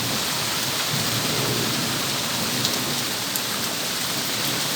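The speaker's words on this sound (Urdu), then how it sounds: "ابھی بھی گرج چمک جاری ہے، گھن گرج جاری ہے" Heavy rain pours steadily in Islamabad during a thunderstorm, loud and close, as a dense, unbroken wash with a low rumble of thunder beneath it.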